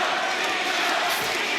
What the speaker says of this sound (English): The crowd chanting Mina, getting behind her.